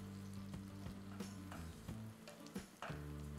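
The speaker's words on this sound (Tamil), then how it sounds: "இந்த வெங்காயம் நல்லா சாட்டே ஆகணும், அதாவது கோல்டன் ப்ரௌன் கலர் வரணும்." Onions sautéing in a mix of ghee and groundnut oil, a steady close frying sizzle with scattered stirring scrapes and light clicks over a low continuous hum.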